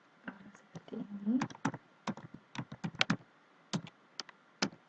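Crisp individual keystrokes on a computer keyboard entering a command, irregular taps and short runs close to the microphone in a quiet room.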